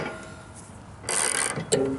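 A part on a Craftsman LT1000 riding mower deck is tightened with a hand tool, giving a quiet mechanical stretch followed by a short burst of ratcheting clicks and a metallic clink.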